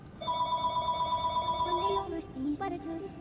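A mobile phone rings with a steady electronic tone for about two seconds, then breaks into shorter warbling notes, sounding close and loud over background game music.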